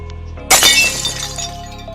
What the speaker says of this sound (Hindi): तो उसने देखा एक ग्लास टूटा हुआ था।